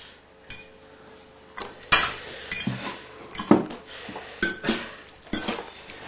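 Utensils scraping and clinking against a dish while excess food from a colourful vegetarian mince dish is scooped up, a series of sharp metallic clinks and scrapes at irregular intervals, close by, with no talking.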